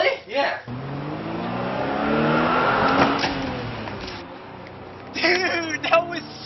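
A car drives down a street with a steady, rising engine roar that swells and then fades as it passes. People talk briefly at the start and end.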